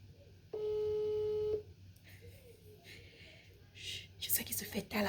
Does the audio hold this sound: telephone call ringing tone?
yes